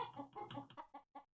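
A chicken clucks in a video game, a faint run of short rhythmic clucks that break into separate notes toward the end, heard alone.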